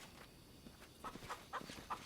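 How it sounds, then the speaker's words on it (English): A chicken clucks faintly in the distance, several short calls in the second half over a low steady background hum, with no one talking. "Chicken."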